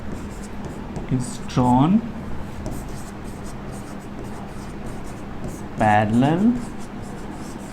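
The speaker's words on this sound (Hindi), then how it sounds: "तो चलो लिख लेते हैं थेल्स के स्टेटमेंट को।" Chalk or a marker writes on a board in a classroom while a teacher notes Thales' theorem, giving two short scratchy bursts of strokes under the teacher's ongoing talk.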